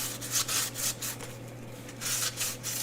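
Sandpaper rubs by hand along the edge of a resin painting in steady back-and-forth strokes, close up. Each strong rasping pass is followed by a softer stretch. No one speaks.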